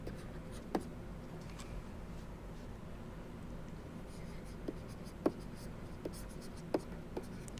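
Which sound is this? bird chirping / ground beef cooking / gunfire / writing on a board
writing on a board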